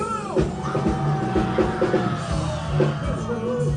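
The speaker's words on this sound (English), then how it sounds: "Now everybody scream." Crowd at a New Year's Eve celebration in Utica shouting and cheering together, a loud sustained roar with scattered whoops and yells over a thumping musical backdrop.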